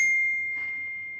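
A phone notification chimes once, a clear bright ding that rings out and slowly fades over a quiet room.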